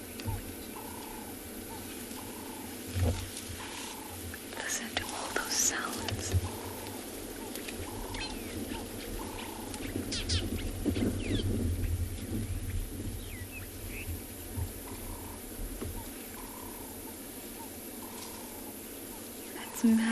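A herd of elephants beside the main road in Sabi Sands on an afternoon safari, heard as low rumbling and snorting in open bush, with regularly repeating wild calls and faint background murmur throughout.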